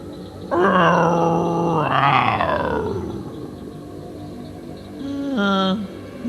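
A swamp creature lets out long, loud, wavering growls and moans up close: one drawn-out rising-and-falling cry, then a shorter harsh burst after a pause, with no voices over it.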